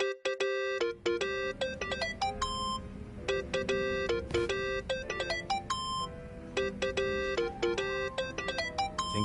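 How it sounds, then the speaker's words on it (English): A mobile phone ringtone from the video game Yakuza: Like a Dragon plays a bright, repeating electronic melody of beeping notes. It rings steadily and loud for about nine seconds with short gaps between phrases, and no voices. "Think that's your phone."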